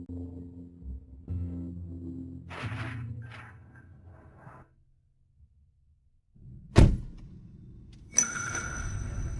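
A car door opens and shuts with a sharp thud as someone climbs into the car, after a quiet pause and faint indoor hum, followed by a brief ding and rustling movement.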